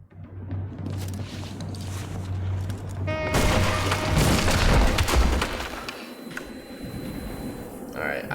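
A gunshot in the video game Nobody Wants to Die, a sharp loud blast that cuts in abruptly and rolls into a booming, crashing tail lasting a few seconds, with voices heard around it.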